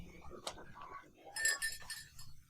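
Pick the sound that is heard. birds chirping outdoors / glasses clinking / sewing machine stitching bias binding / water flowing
glasses clinking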